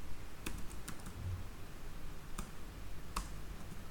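Scattered clicks of a computer keyboard as code is typed, a few distinct keystrokes close by over a steady low background hiss, without any talk.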